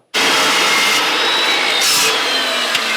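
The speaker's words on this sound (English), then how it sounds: "I think I can chop this at an angle with my saw" A power saw cuts through a metal pipe at an angle. It starts abruptly and holds a loud, steady, high-pitched whine close by, with a faint extra scrape near the end.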